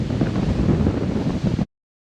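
Breezy outdoor wind buffets the microphone in a steady, loud rumbling roar that holds for about a second and a half before cutting abruptly to silence.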